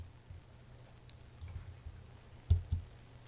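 A single mouse click made with the control key held down on a computer, two short faint clicks close together near the end over a quiet low room hum.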